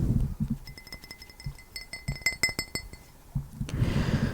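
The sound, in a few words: clink of an empty drinking glass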